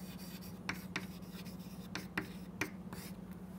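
Chalk or marker strokes on a lecture-hall board, a handful of short scratchy taps and squeaks spaced irregularly over a steady low hum, with no voice.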